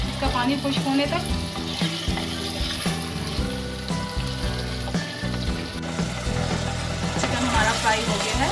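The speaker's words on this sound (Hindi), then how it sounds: "चिकन को अच्छी तरह से भून लूंगी मैं," Chicken sizzling and frying in a pan, a continuous crackle with occasional stirring, while a person talks over it.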